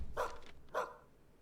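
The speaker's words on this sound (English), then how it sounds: "It's a doggo." Two short, faint barks from a dog, spaced about half a second apart, heard at a low level against quiet background.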